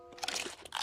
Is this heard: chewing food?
yes